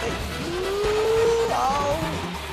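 A kart in Mario Kart 8 hums along, then a rising drift squeal cuts through loudly near the middle before settling, with no voices over it.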